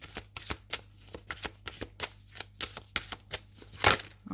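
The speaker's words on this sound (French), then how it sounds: "On laisse sauter la carte." Tarot cards shuffled by hand with a quick, uneven run of crisp riffling snaps, ending in one louder slap near the close; near and clear with no talking.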